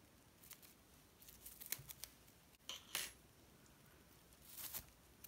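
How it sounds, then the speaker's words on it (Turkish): Scissors snip through yarn during hand needlework, a few faint, crisp cuts spread over a quiet room background. "Şimdi ipi kesiyorum."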